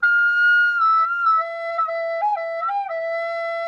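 A tin whistle plays a sustained E note that squeaks into a shrill upper register, the pure tone wavering and shifting pitch a few times. It is loud and close, with no voices.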